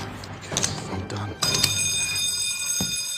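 A hotel alarm being pulled, a sustained ringing bell tone that starts abruptly partway through and holds steady, preceded by shorter rings, with a voice speaking briefly.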